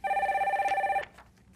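A telephone rings steadily for about a second, a bright double-toned electronic bell, then cuts off as the call connects on a radio call-in line; the line goes quiet afterward.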